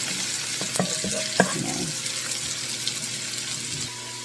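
Garlic frying in a pan for a chicken and broccoli stir-fry, a soft steady sizzle with a few scraping and clinking utensil sounds near the start, no talking.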